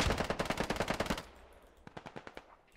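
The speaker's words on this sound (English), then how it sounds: "We're taking fire from the southeast somewhere" Automatic gunfire in a video game squad battle: a loud, rapid burst of about fifteen evenly spaced shots, then a quieter, more distant burst of about eight shots after a short lull.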